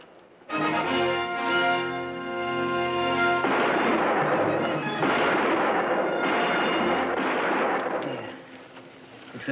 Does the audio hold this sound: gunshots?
yes